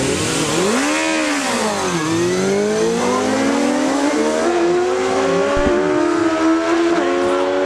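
Drag racing cars at Great Lakes Dragaway roar side by side down the track, loud engines climbing in pitch through repeated gear shifts over several seconds, with crowd noise beneath.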